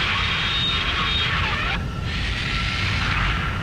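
A wingless aircraft drone flying in Ace Combat, a continuous loud jet roar with a high whine that briefly dips and returns, with no speech.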